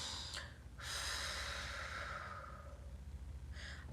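A person breathes deliberately to release tension: a short sharp intake, then a long, steady, airy exhale lasting nearly two seconds, close and quiet, followed by a brief breath at the end.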